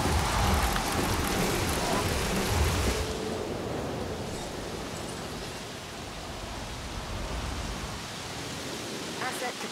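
A rainstorm sweeps across a park in the video game Jurassic World Evolution, heavy hissing rain with a low rumble, loudest at first and then settling into a steady wash of downpour.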